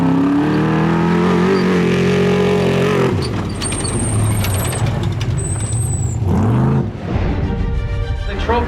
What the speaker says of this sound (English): The trophy trucks are making their way here into Ensenada